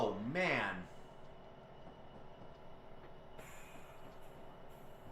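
Locomotive on the Cajon Pass in a train-driving game, rumbling steadily with faint rail clatter, opening with a brief rising horn-like tone and a thin high squeal later; a voice is heard talking near the start.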